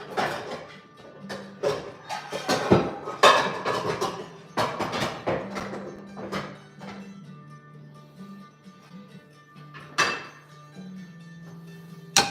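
Eggs being cracked and handled in a hot home kitchen while making banana bread, with repeated sharp knocks and clatters of shells, bowls and utensils, a low hum running underneath, and no talking.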